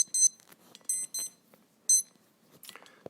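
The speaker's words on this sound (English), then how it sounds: "I got alarms going off" An electronic alarm goes off in short, high beeping bursts separated by gaps, clear and fairly close, with a few faint background noises between the bursts.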